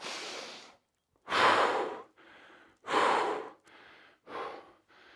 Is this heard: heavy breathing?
yes